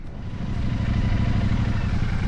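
A motorcycle ridden along the Ormond Scenic Loop near Daytona Beach, its engine giving a steady, close, continuous rumble with rough low-end clatter and no pauses.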